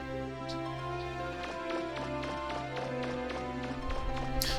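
Quick, regular footfalls with a soft squelchy tap patter along steadily in Mega Man Legends 2, running over a sustained wintry background music tune.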